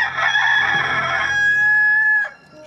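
A rooster crows once, loud and close, a long strained call that rises and holds before cutting off into quiet.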